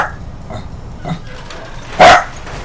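A dog in the Fallout New Vegas game, Old World Blues add-on, gives one loud sharp bark after a few faint whimpering yips, fairly close, with no talking.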